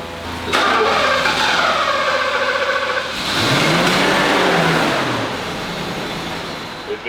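A car engine cranked and caught, then revved hard in two long rising surges, loud and close, settling to a rough idle.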